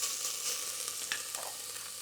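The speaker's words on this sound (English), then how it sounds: "A little bit of oil. Enough to actually fry the paste well." Curry-style spice paste frying in a little oil over medium heat, a steady close sizzle and crackle with faint stirring scrapes, no talking.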